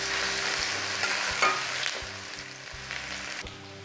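Cumin, ginger, garlic and green chili sizzle steadily in hot oil in a pan, a close, continuous crackling fry with occasional stirring scrapes, no voices.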